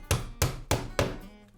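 A hammer strikes four times in an even rhythm, fastening a metal corner bead to protect a wall edge; each blow is a sharp, close, solid knock.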